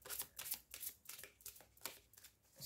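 Tarot cards riffled and drawn in a run of crisp, papery bursts, about ten quick rustles in steady rhythm, close and fairly soft with no voices.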